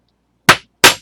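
Two sharp, loud hammer blows land close by, about a third of a second apart, driving a punch through the material to make stitching holes, with silence around them.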